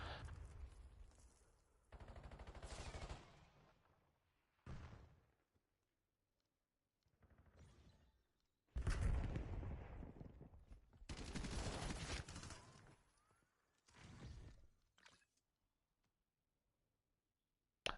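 Bursts of automatic gunfire in Black Ops 7 multiplayer, several separate volleys of rapid shots spread across the stretch with quiet gaps between them, some close and loud, others fainter.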